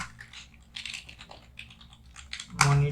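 Rapid clicking keystrokes on a computer keyboard, close and crisp, come in irregular bursts with short pauses, ending in a louder thump of a key press.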